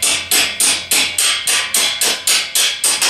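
Repeated hammer taps drive out the center column of a Tao Tao 50 scooter front axle, about eleven loud, close metallic strikes in a steady rhythm, each ringing briefly before the next.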